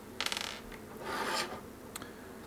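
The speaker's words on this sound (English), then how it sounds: "Now we can remove the rails underneath the drive." Plastic mounting rails sliding and scraping off the underside of a drive from an IBM PS/2 Model 30, a close rasping burst followed by a longer scrape and a couple of faint clicks.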